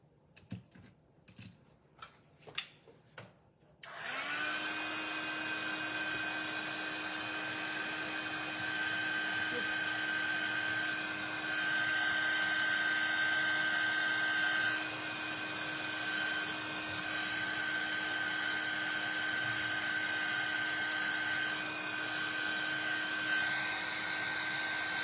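A handheld heat or drying tool blows air over glossy craft layers, switching on after some light tapping and handling, then a loud, steady whirring drone with a high whine that runs on and shifts slightly in pitch.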